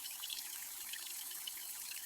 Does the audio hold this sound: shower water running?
yes